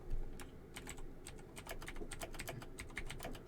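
Fingers tap rapidly on a computer keyboard, a quiet, close run of irregular clicking keystrokes with no speech.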